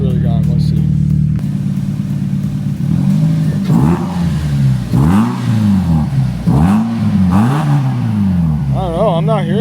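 A car with a suspected engine problem runs steadily, its engine note swelling and revving as the vehicle is pulled out, loud and close throughout while people talk over it.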